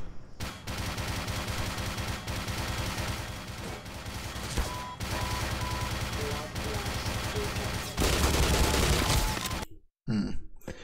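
Dense, sustained gunfire from the Black Mesa video game, with continuous bursts and rapid shots filling the clip before cutting out briefly near the end.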